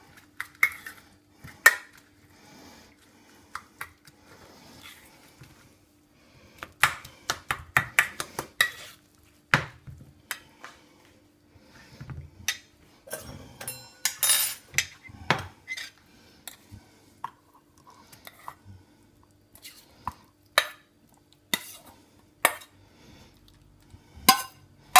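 A spoon mixes yogurt with chopped cucumber, onion and fresh garden mint in a bowl: irregular clinks and scrapes against the dish, bunched into bursts with quiet gaps between them, close and without speech.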